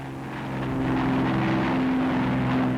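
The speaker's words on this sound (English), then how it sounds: "Day bombers blast coastal installations, continuing the heavy attacks of the night before" Wartime day bombers flying over enemy coastal installations during the invasion of France, a steady droning engine hum that swells slightly and holds, heard alone with no voices.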